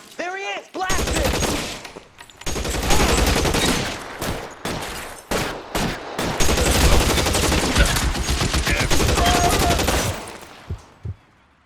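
A sustained burst of gunfire in the crime game L.A. Noire, dense rapid shots stretching for about ten seconds, loud and near, with a shouted voice at the start and a few scattered shots trailing off at the end.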